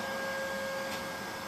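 A Neato D85 robot vacuum cleaning a tile floor near carpet, a steady close motor whine with a constant tonal hum and airy suction noise.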